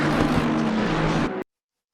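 Race cars at Suzuka in Assetto Corsa Competizione, including a Bentley, whine with a steady high engine note for just over a second and then cut to silence.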